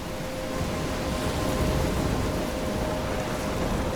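Steady, dense rain pours without a break in a stormy scene from the video game Life is Strange, a constant loud wash of noise with a faint low rumble that could be distant thunder, and no voices.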